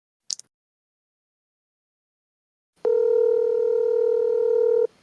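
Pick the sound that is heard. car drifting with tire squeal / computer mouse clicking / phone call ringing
phone call ringing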